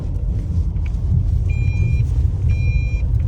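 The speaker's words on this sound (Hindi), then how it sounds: "एक बार ज़रा गाड़ी पार्क कर लूँ।" A car being parked on a rain-soaked Uttarakhand trip: steady engine rumble close by, with a repeating two-part reversing beep chiming over it, no voices.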